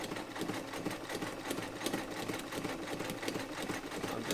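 A Frister & Rossmann 35 sewing machine, modified for heavy-duty work with a number 20 needle, runs a zigzag stitch, giving a rapid, steady mechanical chatter of needle strokes close up with no voices.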